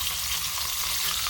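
Ribeye steaks sear in a pan of olive oil and melted butter, giving a steady, dense sizzle and crackle with no talk over it.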